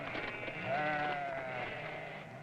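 Sheep and goats with a lone herder in the desert bleat close by, a wavering drawn-out cry over a soft continuous background.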